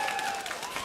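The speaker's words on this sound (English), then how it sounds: "Oh, the crowd is ready." An arena crowd at a League of Legends esports match claps and cheers in a brief, dense, loud wash of applause.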